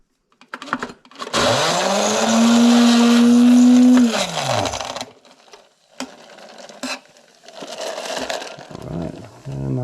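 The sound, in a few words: blender mixing a cocktail with ice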